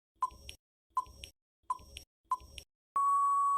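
Four short electronic blips sound at an even pace, each followed by a faint tail, then a sustained steady beep tone takes over as a timer starts, all quiet and close with no talking.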